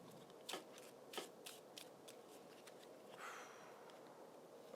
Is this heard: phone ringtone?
no